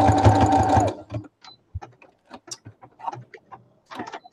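A sewing machine runs in one loud, dense burst for about a second while stitching a pillow seam, then stops, leaving sparse faint clicks and soft handling noises.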